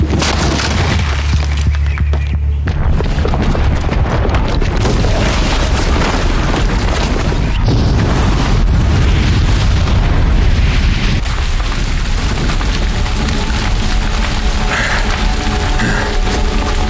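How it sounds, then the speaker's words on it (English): A bomb explodes in a Horizon Zero Dawn cutscene, a massive sustained boom with deep rumbling and crashing debris that stays loud and dense for the whole stretch, with no voices over it. "the booby trap on the bomb downstairs is gonna get set off"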